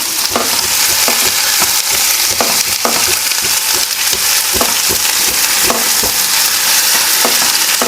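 Raw mango and curry leaves sautéing in a pan, a loud continuous sizzle broken by repeated scraping stirs of a spatula, close up with no voices.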